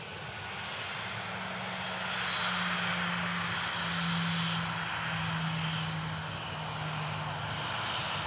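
A Ryanair airliner arriving at Manchester Airport from Milan, its engines throttling down in a steady, loud drone with a low hum that holds throughout, no voices over it.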